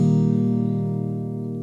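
One open strum on a guitar in open E flat tuning with a capo on the first fret, ringing out as a full chord and slowly fading, close and alone.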